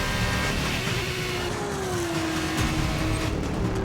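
Formula 2 race cars scream around the track in the F1 2019 racing game, a loud, steady engine roar with shifting pitch as the cars pass close by.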